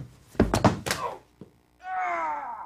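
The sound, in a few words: sound effect of someone falling down the stairs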